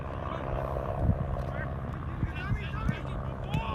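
A small propeller plane drones overhead near a soccer field during a men's college match, a steady low hum carrying beneath a commentator's talk, with dull thumps of play scattered through.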